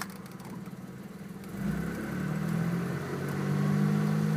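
A 1993 Dodge Stealth engine runs in drive with a faulty used replacement transmission that fails to shift, a steady idle that rises partway through into a louder, sustained higher hum that holds without changing gear.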